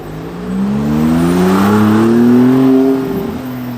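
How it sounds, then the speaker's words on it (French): A blue Maserati MC20 sports car passes nearby on a Monaco street during the Formula 1 Grand Prix weekend, its engine note rising steadily as it approaches, peaking loud and close, then fading away alone. "Maserati MC20 dans une configuration bleue qui descend ici."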